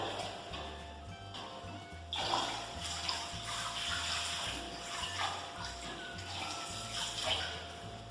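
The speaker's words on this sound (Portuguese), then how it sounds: "vou terminar com um jato de água na temperatura ambiente, a mesma que a gente pegou direto da torneira" A jet of room-temperature tap water pours over feet in a basin during a foot bath, a steady close splashing rush with gurgling bursts and no voices.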